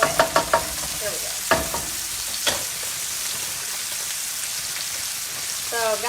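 Onions sizzling loudly in a hot pan while a spoon scrapes and stirs them, several sharp clanks of utensil on metal over a constant close crackle of frying.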